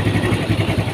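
Motorcycle engine running just before shutoff, a low, steady, slightly lumpy idle pulsing evenly for about a second, close and alone.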